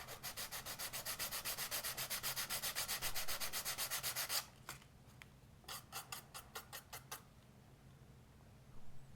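Fine sandpaper rubs rapidly back and forth over a scratch-built plastic model, a fast rhythmic rasping that continues for several seconds, then breaks into shorter, lighter strokes.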